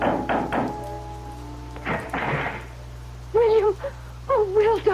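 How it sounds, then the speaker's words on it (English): Knocks on the door of a house in an old-time radio drama: a few sharp raps near the start, then a voice answers with excited talk over a low steady hum. "I knocked on the door of the Adams house."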